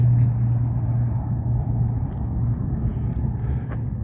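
Steady low rumble of Highway 58 traffic along the Pacific Crest Trail, a continuous moderate drone of passing cars with a constant low hum, slightly distant and unbroken throughout.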